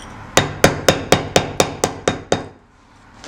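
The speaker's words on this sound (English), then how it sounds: "The second noise is just like pounding, but there's no chips breaking away." A hammer pounds on stone in a sculpture studio without breaking chips away, landing nine sharp, evenly spaced blows close by, then stopping into near silence.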